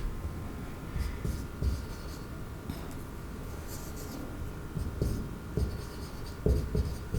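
Chalk or marker scratching on a classroom board in steady short strokes and taps, faint and close, over a constant low room hum with no talk.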